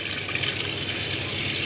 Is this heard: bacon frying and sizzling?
no